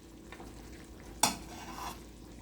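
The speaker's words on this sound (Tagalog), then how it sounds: "Tapos kiwar-kiwar tayo." Pork adobo with bone-in pieces and meat being stirred in a pan, a soft scrape against a steady oily sizzle, with one sharp clink of the utensil midway.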